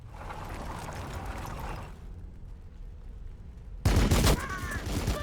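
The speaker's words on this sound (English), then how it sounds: "We're under fire." Gunfire in the Warhammer 40,000 strategy game during an Orks versus Blood Angels battle, heard as a dense rattling fusillade under broadband game noise, which drops away midway before a sudden loud burst of shots returns.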